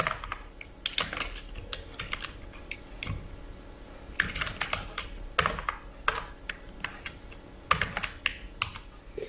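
Name being typed on a computer keyboard, a steady run of close, crisp key clicks in irregular bursts over several seconds, with no voices.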